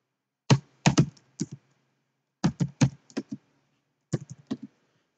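Computer keyboard keys pressed in short clustered bursts of several crisp taps, three separate groups with pauses between, close and clear with no talking.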